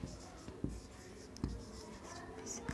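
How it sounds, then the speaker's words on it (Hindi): Marker or chalk scratching across a classroom board as a bone's name is written, brief strokes with a few sharp taps, close and moderately faint with no speech over it. "उसका नाम मैं यहाँ लिख देती हूँ आपका"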